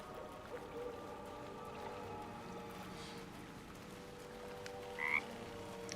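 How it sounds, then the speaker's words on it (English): Frog croaking in the video game Baldur's Gate 3, a steady low croak over a busy outdoor ambience with running water, plus a brief brighter call near the end. "But the frog, I forgot about this frog."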